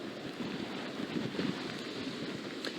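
Strong, gusty hurricane winds from Hurricane Nicole roar steadily across an open microphone, swelling in a few louder surges rather than blowing constantly.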